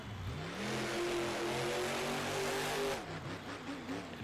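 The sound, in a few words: monster truck engine revving during freestyle run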